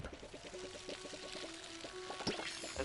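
Watering can pouring onto a garden in the video game Palia, a steady splashing pour with a faint looping tone and soft rhythmic ticks underneath, continuous and moderately loud with no speech.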